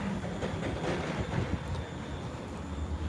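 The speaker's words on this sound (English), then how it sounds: "It's a Freightliner Class 66." A Freightliner Class 66 diesel locomotive at a station platform, a steady, low rumbling drone with faint metallic clatter throughout.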